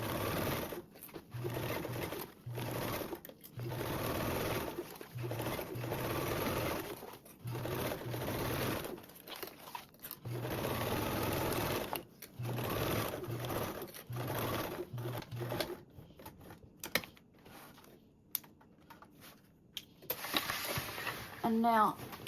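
A sewing machine stitches a duffle bag panel in repeated rhythmic bursts with short pauses, its rapid needle chatter and motor hum steady and close, while a person talks over parts of the sewing.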